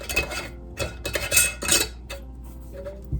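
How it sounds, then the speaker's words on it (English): A metal canning lid and ring band fitted onto a glass jar of pork broth, a few light clinks and scrapes close by, then quieter handling. "Let's put a lid and ring band on."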